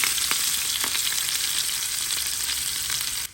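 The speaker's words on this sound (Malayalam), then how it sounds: "നമ്മൾ ചെമ്മീൻ ഓരോന്നിട്ടിട്ട് നന്നായിട്ടൊന്ന് ഫ്രൈ ചെയ്തെടുക്കാം." Prawns frying in coconut oil with curry leaves give off a loud, bright, continuous sizzle and crackle that eases slightly toward the end, with no talking.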